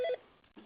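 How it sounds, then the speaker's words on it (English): An office telephone gives a brief electronic dual-tone beep, a short bright burst followed by a fainter blip, heard alone. "the phone's just going crazy here all of a sudden"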